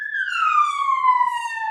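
A wailing emergency siren, sounding as an ambulance passes along the street, holds a steady loud descending tone throughout with no talk over it.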